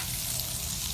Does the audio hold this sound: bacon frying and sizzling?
yes